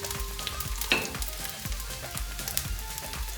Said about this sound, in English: next what you want to add up is 2 onions sliced up into the pan